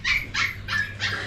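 A puppy gives four short, close yelps and whimpering barks in a quick, evenly spaced series, with no talking.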